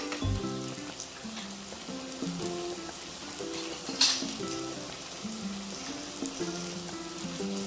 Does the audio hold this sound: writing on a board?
no